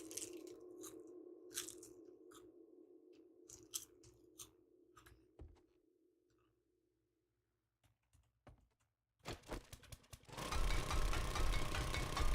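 Crunchy seaweed chewed close to the mic in a survival game stream, with a run of sharp, irregular crunching bites and pauses, followed by a burst of louder broadband noise near the end.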